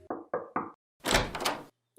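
Three firm, evenly spaced knocks land on a front door, followed by a louder rattling thud as the door opens, all close and clear.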